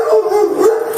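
A single dog gives a loud, close, drawn-out bark that edges toward a howl, tonal and wavering, standing alone without speech.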